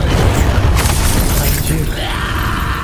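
Incendio fire spell cast in Hogwarts Legacy, a loud crackling, shattering burst over dense game noise and rumble, with a whooshing sweep trailing off.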